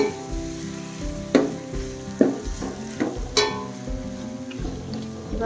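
Green chillies, tomato and onion sizzle in hot oil for a bhajji palya, a steady close frying crackle broken by several sharp stirring scrapes and clatters of the spoon against the pan.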